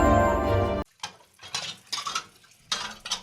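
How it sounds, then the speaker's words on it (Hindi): Dishes clinking at a kitchen sink basin as someone washes them, a few sharp metallic clatters and scrapes of pots and cutlery in quick separate bursts, close and fairly loud after a brief burst of music. "अंजलि बेसिन पर बर्तन साफ कर रही है।"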